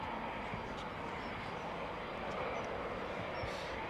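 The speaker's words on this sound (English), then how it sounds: "More aircraft coming out from the western end of the airfield." Fighter jets roaring steadily at RAF Coningsby, a loud continuous broadband engine rumble that holds at one level throughout with no pauses.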